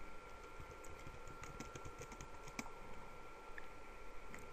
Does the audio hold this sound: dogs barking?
no